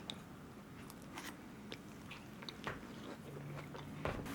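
Someone chews a mouthful of homemade baked apple crisp, close up, with soft repeated crunches and bites at an uneven pace and no talking.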